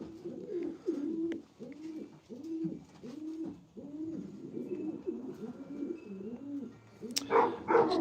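Racing pigeons coo in a steady repeating series of soft, low rolling calls close by, one after another for several seconds, with a brief clatter near the end.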